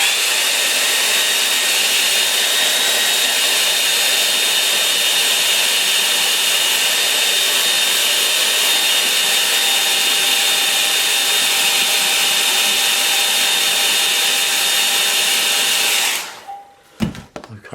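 A hair dryer blowing on wet paint, a loud steady whooshing roar with a faint whine that runs unbroken until it is switched off near the end, leaving a few clunks.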